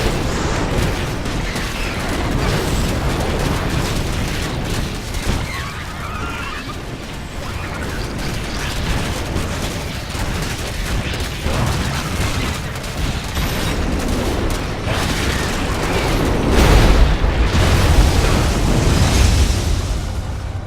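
A StarCraft II eradicator turret in a Zerg-overrun containment sublevel opens fire and is blown apart. A dense, continuous barrage of loud blasts, bursts and booms rumbles throughout, swelling heavier near the end.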